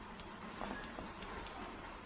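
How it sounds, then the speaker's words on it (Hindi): Monsoon rain falls as a steady, dense hiss of drops, even and continuous throughout at moderate volume, with no voices. "लो भाई, बारिश आ गई मानसून की वजह से।"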